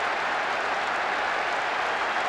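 Stadium crowd in PES 2010 on PS2 roaring and cheering after a goal, a steady broad wash of noise sustained throughout without gaps.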